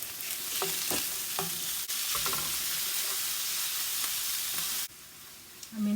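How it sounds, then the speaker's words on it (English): Ground lamb and onions frying in a pan, a steady loud sizzle with scattered clicks of stirring, briefly dipping before resuming, with no talk. "I think I'm gonna start putting my ground lamb."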